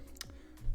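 A keycap pulled off a Razer BlackWidow Elite mechanical keyboard: a couple of sharp plastic clicks and a light snap, close and brief with no talk.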